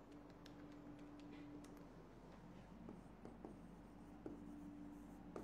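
Pen writing by hand on paper during a Bengali accounting lesson, with steady scratchy strokes and brief taps running through the whole stretch. A faint steady hum sits underneath and there is no talk.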